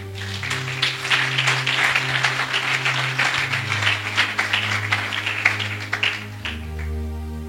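A church congregation applauds, a sustained wash of many hands clapping with a steady low hum underneath, tapering off at the end.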